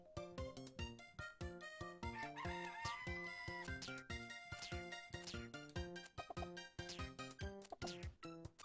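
Video game music from The Legendary Starfy plays continuously with rhythmic beats while a chicken character's clucking and crowing sounds mix in, quiet overall.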